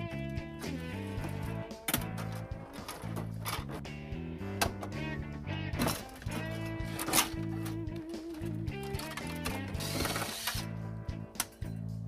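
A ratchet clicks rapidly in bursts with short pauses while backing screws out of an old electrical panel being removed, close up and fairly loud, with tonal mechanical ringing throughout and no voices.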